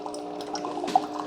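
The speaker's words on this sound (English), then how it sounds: "Water should flow out of there nice and even." Water trickles and drips from a cleaned Cuisinart SS-5 single-serve K-Cup coffee maker, a brief, fairly close, steady light flow with small splashy drops.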